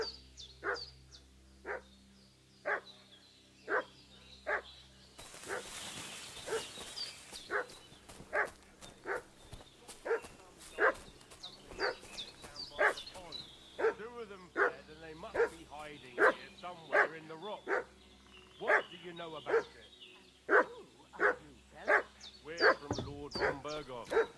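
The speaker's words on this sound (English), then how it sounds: "What's that dog making such a fuss about?" Dog barking in Kingdom Come: Deliverance II, a long run of loud, evenly spaced barks with occasional yips and whimpers, over game ambience, with voices talking in between.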